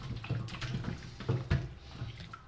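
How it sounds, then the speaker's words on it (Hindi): Meat is rinsed under running water from a tap, a close, continuous splashing and gurgling with a few heavier spatters, no voices. "असी इनू वॉश कर लें"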